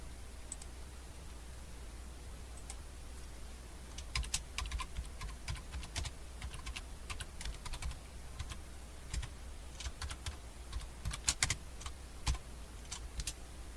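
Typing on a computer keyboard while entering tooltip text in the Gambas visual programming environment on Linux: irregular bursts of quick key clicks over a low steady background hum, close and moderately loud, with pauses between flurries and no talking.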